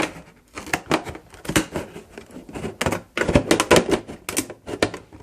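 Scissors snip through a plastic container being prepped for winter sowing, with a quick run of close, crisp cuts and crackles and short pauses between bursts.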